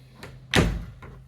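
A door blank being shifted aside in a house interior: one loud knock and scrape of the door panel, with fainter bumps before and after, close by and with no voices.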